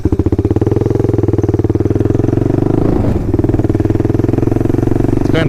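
A Kawasaki KLR650 motorcycle engine chugs loudly and close, its steady thumping idle pulses turning briefly rougher as the bike turns around, then settling back to the same even beat.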